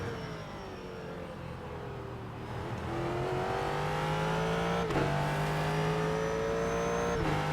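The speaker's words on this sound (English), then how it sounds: "It is always fun driving the car" A Ford GT3 race car in iRacing at Road Atlanta drones steadily and loudly, its engine pitch climbing through the gears with a couple of sharp upshifts, alone without talk.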